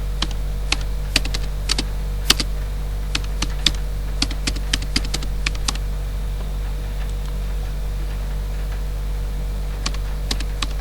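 Quick bursts of typing on a computer keyboard, sharp key clicks in uneven clusters over a steady low hum, then a sparser tapping after a pause.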